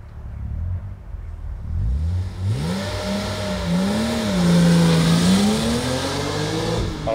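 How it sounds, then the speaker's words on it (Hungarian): A BMW Z3 M or Datsun 280Z sports car pulls away hard with its wheels briefly spinning, the engine note rising and sweeping loudly up through the gears, close by and with no other sound over it. "Alattat kicsit megforgott a kerék"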